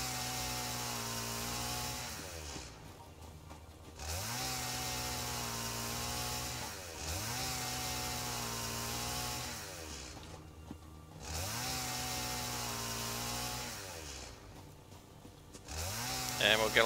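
A chainsaw in the video game Satisfactory (Update 3) cuts down trees with a steady buzzing drone that revs up and drops back in repeated cycles about every four seconds, loud and close.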